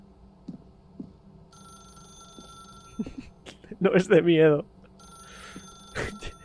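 An old-style telephone ringing in the video game The Stanley Parable: Ultra Deluxe, repeated bursts of rings amid quiet ambience, with someone talking over it briefly.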